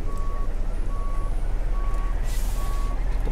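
Reversing beeps from a Mercedes-Benz Actros in Euro Truck Simulator 2, four evenly spaced beeps over a steady truck engine rumble, with a brief hiss near the end.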